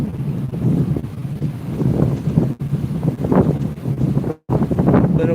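Gusty west wind buffets the microphone on a lake shore, a loud continuous low rumble with rising and falling gusts and a couple of brief dropouts, with no voices.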